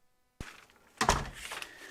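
A garage door is opened and then shut: a sharp click of the latch, then a heavier close thud about half a second later, alone and fairly near in a quiet room.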